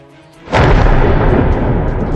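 A sudden, loud crack of thunder bursts in and rolls on as a deep, sustained rumble.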